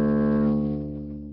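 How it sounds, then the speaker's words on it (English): Open D string on a double bass, bowed or plucked in its fundamental mode around 73 Hz: a single deep, resonant note with rich overtones, loud at onset and slowly fading over about a second, heard alone. "So that's a D on my bass."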